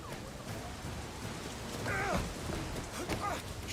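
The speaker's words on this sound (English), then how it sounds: "They're in the rain" Steady rain in the open-world crime game Sleeping Dogs, a continuous hiss of falling water with a brief vocal-like groan swelling midway and some faint game sounds beneath.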